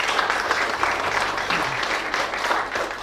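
An audience at a safety professionals' chapter meeting applauds to welcome a speaker, with sustained, dense clapping from a roomful of people for a few seconds and no voices over it.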